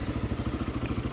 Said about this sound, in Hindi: Okay, to start the bike.